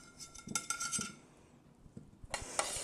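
A utensil scrapes and clinks against a pan while scooping up freshly roasted vegetables, with a few close metallic taps, a short lull, then a burst of scraping and soft sizzle.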